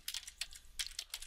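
Close, quiet clicks of a computer keyboard as a word is typed, several quick uneven keystrokes in two short bursts with no voices.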